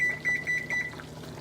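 Kitchen timer on a cooktop being set to five minutes, giving a series of short, close electronic beeps in quick succession, some running together, then stopping, with no talk.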